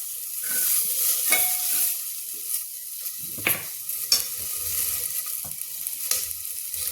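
Potatoes and peas sauté in ghee over low heat, a steady soft sizzle broken by a few scraping stirs of a spoon in the pan, with no voices.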